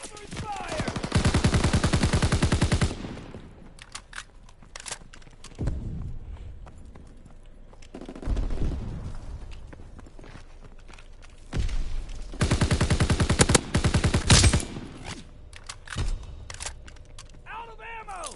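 Video-game gunfire comes in several loud bursts of rapid shots, separated by quieter gaps that hold scattered single shots and clatter.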